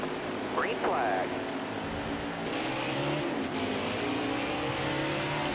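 Race cars in the NASCAR Heat 5 video game accelerate at a green-flag restart at New Hampshire Motor Speedway, engines droning and revving steadily in a pack, with the player talking over them.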